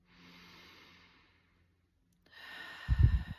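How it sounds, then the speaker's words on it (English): Slow meditative breathing during a guided heart-centred meditation, with a soft, faint inhale, a silent pause, then a longer exhale ending in a breathy, low-pitched release close to the microphone. "breathing"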